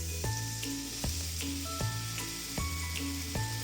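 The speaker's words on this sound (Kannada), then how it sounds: "ಇವಾಗ ನಾನಿದನ್ನ ತುಪ್ಪದಲ್ಲಿ ನೀಟಾಗಿ ಫ್ರೈ ಮಾಡ್ತೀನಿ." Carrots fry in hot ghee with a steady, soft sizzle, broken every second or so by a scraping stir of the pan, close and fairly quiet with no voices.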